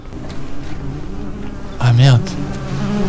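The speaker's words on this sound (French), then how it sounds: "Ah, le frigo. C'était ça le bruit de la mouche." In the game MiSide, a refrigerator gives off a steady low buzz like a fly, droning throughout, with a man's short exclamation cutting in midway.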